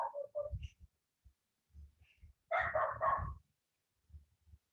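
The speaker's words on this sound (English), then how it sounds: "My neighbor's dog is going bananas" A neighbor's dog barks in a few short bursts, the loudest cluster landing midway, set apart from the listener and fairly faint against an otherwise quiet room.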